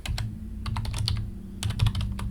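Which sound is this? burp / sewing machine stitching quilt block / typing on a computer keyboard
typing on a computer keyboard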